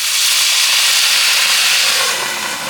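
A loud, steady hiss of steam rises as a little water is added to a hot pan of zucchini, a broad continuous sizzle that holds for a few seconds and eases slightly at the end, with no one talking.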